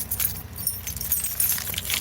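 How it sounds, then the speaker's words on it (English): A bunch of door keys jangles close up, a bright continuous metallic clinking and rattling with small irregular bursts throughout. "I got 3 keys that look just alike"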